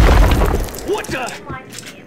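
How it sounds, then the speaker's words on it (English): A loud, deep boom from the game Max Payne opens abruptly and rumbles out within about a second, followed by scattered debris clatter and a short exclamation from a voice. "I thought it was a bomb for sure."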